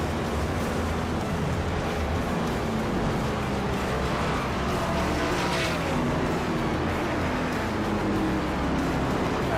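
Race cars from a racing video game pull off the pit lane at Pocono, a dense continuous engine roar with overlapping cars, steady and loud, no talking.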